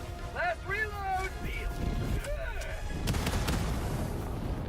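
Gunfire in the Helldivers 2 video game, with sharp shots, bursts and booms overlapping music-like tones and a busy mix, growing louder and denser in the second half while voices talk.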